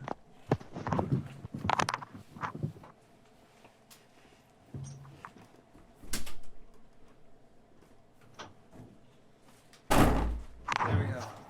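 A door being worked open to let a dog named Reggie out, with several heavy thunks and knocks in clusters, close and fairly loud, separated by quieter stretches and a final solid bang near the end.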